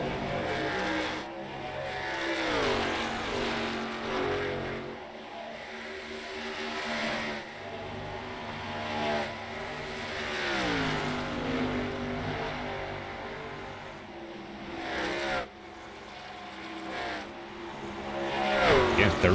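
Racing trucks in a sim racing game rise and fall in pitch as they accelerate and pass along the track. A commentator talks continuously over the engine noise.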